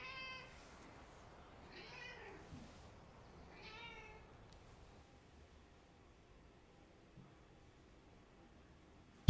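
A pet cat meows two or three times up close, each call short and clear with quiet pauses between them over low background hiss, and no one is talking.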